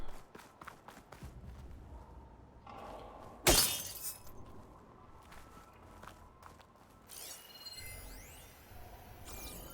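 A single sharp burst of tough glass shattering in Horizon Forbidden West cuts through steady in-game footsteps, loud and close, followed by quieter scuffs and faint sweeping tones.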